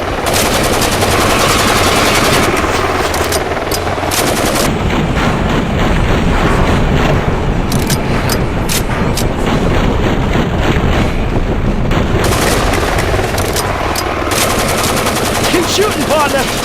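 Sustained heavy gunfire in the Driver: San Francisco video game, loud and continuous bursts over wind and churning water noise, with no talking.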